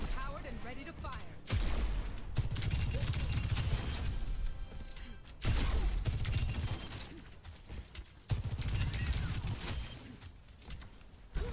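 Sojourn's railgun in Overwatch firing as several heavy, booming shots spread across a busy stretch of game audio, with a player talking over the action.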